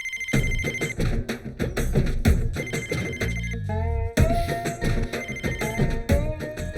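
Landline telephone ringing in a house, repeated electronic ring bursts in a steady rhythm over a busy background of other sounds.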